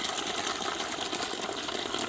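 Water sprays hard from a split hose on a camel pack hydration bladder during a camping hike, a continuous hissing squirt that runs steadily and then cuts off abruptly at the end.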